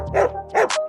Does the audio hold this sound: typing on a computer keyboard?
no